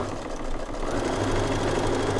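A sewing machine fitted with a walking foot stitches fabric in a straight line for quilting. It makes a steady, continuous mechanical hum with a low motor drone and no talking.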